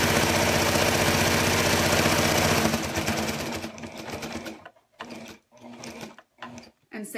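A sewing machine with a walking foot stitches through blanket fabric, running steadily and loudly at first, then slowing into short separate bursts with pauses between them.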